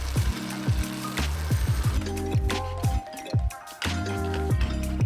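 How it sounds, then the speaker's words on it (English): A stick of butter melts and sizzles in a pan for a wing hot sauce, a steady bubbling fizz with scattered pops and clinks, close and fairly loud, no voices. "Now for the hot sauce, I'm adding a little stick of butter and melting it"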